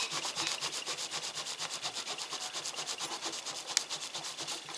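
A cloth rubs briskly over a small metal-detecting find in quick, steady back-and-forth strokes, a close, even scrubbing rhythm with one brief sharp tick near the end.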